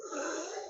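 Steady, close breath noise through the nose during an alternate-nostril yoga breathing exercise, one continuous airy exhale with a slightly wheezy, rough texture, heard alone without talk.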